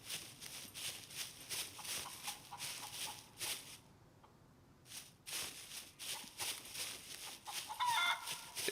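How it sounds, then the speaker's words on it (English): A chicken in the video game Scum clucks in short repeated bursts, broken by a brief quiet gap, over a steady hiss of outdoor ambience. It sounds moderately close and nobody speaks. "Let's see if I can get this chicken."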